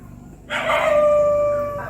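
A dog lets out one sustained howl that rises suddenly and holds for over a second before fading, close and fairly loud against a quiet village background.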